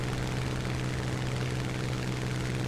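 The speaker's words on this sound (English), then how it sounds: "Lots of planes swarming around the runway." Several aircraft droning around a runway in the War Thunder game, a steady engine hum with propeller buzz, constant and moderately loud, no talk.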